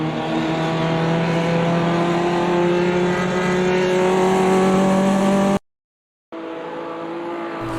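Race cars at Bathurst's final corner roar loudly and continuously with engines revving and shifting pitch, a brief total dropout, then the engine roar resumes.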